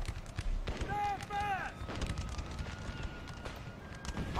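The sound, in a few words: canister artillery fire in video game Napoleon: Total War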